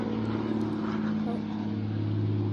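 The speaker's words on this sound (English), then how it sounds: "Of course, there's a plane flying over me." A propeller airplane drones steadily overhead near a wooded military memorial, a constant low hum that holds at even loudness throughout.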